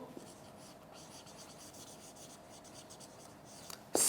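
A teacher writes on a classroom board during an English lecture, with faint, soft scratchy strokes in a quiet room and a sharper knock right at the end.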